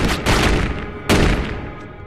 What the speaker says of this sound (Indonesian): Di sini mereka terpaksa menembak Jojo hingga tewas karena jamet ini melakukan perlawanan.